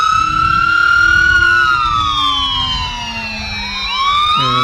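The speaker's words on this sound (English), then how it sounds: "An EMS vehicle, as promised, providing some sound here." An EMS vehicle's siren wails loud and close at a dairy festival parade, a sustained tone sweeping slowly downward over several seconds before abruptly switching pitch at the end, with engine rumble underneath and no talking.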